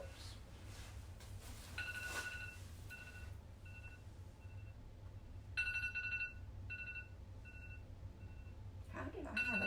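A timer alarm chiming in short repeated electronic bursts, quiet and somewhat distant, over a low steady hum in an otherwise calm room.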